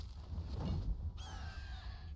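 A bird in the video game Enshrouded gives a caw over a busy game soundscape, a single harsh call standing out moderately loud against rumbling background noise.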